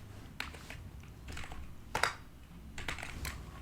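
Bursts of close computer keyboard typing while writing HTML code for a Rust web development project, with short pauses between runs of keystrokes and one sharper, louder clack midway; no talking.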